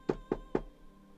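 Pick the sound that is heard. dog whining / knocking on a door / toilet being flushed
knocking on a door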